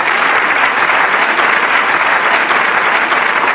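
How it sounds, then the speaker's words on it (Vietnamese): Studio audience on a Vietnamese television game show applauds two contestants, a steady, dense wash of clapping that runs evenly from start to finish with no talk over it. "Chúng tôi xin mời các cổ động viên dành những tràng pháo tay nồng nhiệt cổ vũ tinh thần cho hai thí sinh"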